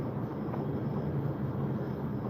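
A fixed-wing airplane passing overhead gives a steady, continuous low rumbling drone that holds at an even level throughout, with no talking over it.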